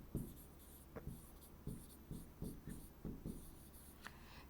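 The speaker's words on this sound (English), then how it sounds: "So I'm just going to write A in the middle." A pen scratches across paper in a series of short, regular strokes about twice a second, quiet and close, with faint high scraping between the stroke taps.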